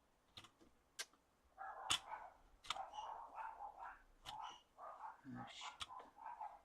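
Dogs bark in a muffled, indoor way as a mailman approaches, with short bursts scattered across several seconds, while a person talks over them nearby.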